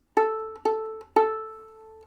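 The open A string bowed on a violin or viola, three clear notes in a row, the final one sustained and slowly fading.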